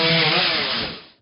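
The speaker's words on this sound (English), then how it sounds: "With chainsaws equipped, the rescue crew rushed to the site of the fallen tree and began sawing away its segments" A chainsaw rips steadily through the trunk of a fallen tree during a fire department rescue, a loud close snarl held for about a second before it cuts off.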